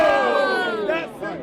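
A debate audience shouts a one-word answer together, a loud, brief burst of many voices in unison, close and then quickly trailing off.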